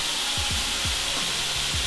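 Leftover heat sizzles faintly in a switched-off pan that was just used to fry kale, a steady soft hiss with a few brief low thumps, and no talking.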